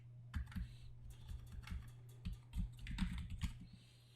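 Keys clacking on a computer keyboard during an office software lesson, a quiet irregular burst of taps with a low steady hum beneath, no talking.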